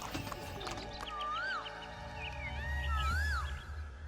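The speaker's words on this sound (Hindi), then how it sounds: "राजू तांगा लेकर जाता है और सही सलामत चलाकर वापस ले आता है" A cartoon horse-drawn tonga cart rolls along a road, steady clip-clop of hooves with whinnies rising above a continuous music-like background, moderately loud throughout.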